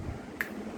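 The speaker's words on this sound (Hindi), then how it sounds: "चुटकी" A single crisp finger snap rings out once midway, short and fairly clear against quiet room tone.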